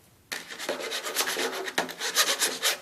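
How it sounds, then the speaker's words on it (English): A hand file rasps in steady back-and-forth strokes over freshly drilled material, clearing sharp burrs left around the holes; close, even scraping with a rhythmic pulse throughout. "grab yourself a file, just file over it, nice and easy, until you get rid of those really sharp bits"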